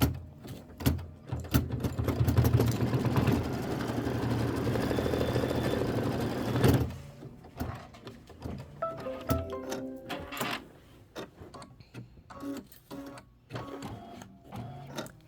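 Embroidery machine stitching a bottle placement line in shadow on fabric: a steady, loud, rapid mechanical stitching whir for several seconds, then stopping, followed by softer clicks, clatters and short motor bursts.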